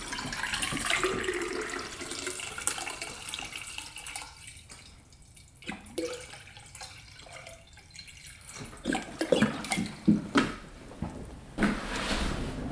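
Water running from a tap while a glass or bottle is filled, splashing and gurgling in irregular bursts with brief pauses and some clinks and handling noises, close by, with no talk.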